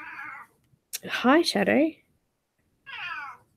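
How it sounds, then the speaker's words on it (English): A Bengal cat named Shadow meows in several clear, close calls, a drawn-out cry first and then a pair of rising meows, with someone speaking briefly between them. "She's our Bengal cat."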